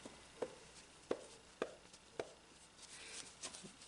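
Woven cotton fabric tugged taut along the straight of grain, giving a handful of sharp, faint snapping pops at regular intervals, followed by softer rustling handling noise, close and quiet with no talk.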